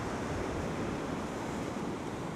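Surf and white water breaking on a fishing beach, a continuous loud rushing wash of waves mixed with wind buffeting the microphone, with no voices.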